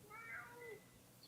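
A domestic cat meows in a single drawn-out, complaining call, fairly close and moderately loud, followed by a faint higher chirp near the end.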